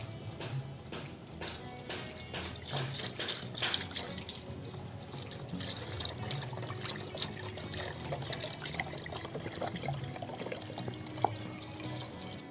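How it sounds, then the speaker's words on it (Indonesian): Milk pours steadily into a milk can set inside a basin, a continuous liquid trickle and splash at moderate distance, with no talking. "Yang ketiga, tuang susu ke dalam kaleng."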